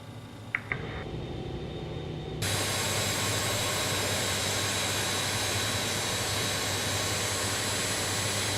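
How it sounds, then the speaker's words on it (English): Jet engine spooling up on a CRJ regional jet in Microsoft Flight Simulator: a steady broadband roar that jumps louder partway through and then holds as a constant, even whine with no talking. "Engine number 1 and start."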